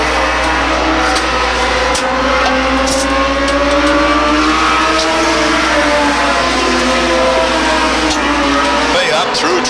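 Late model stock cars roar around Beech Ridge Motor Speedway, their loud, sustained engine drone filling the air as a pack races by, with a shifting pitch near the end and an announcer talking over the top.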